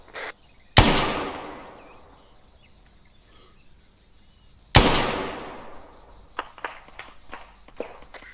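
Gunfire in Arma 3: two sharp, loud reports about four seconds apart, each ringing out in a long echoing decay, followed by several fainter distant cracks.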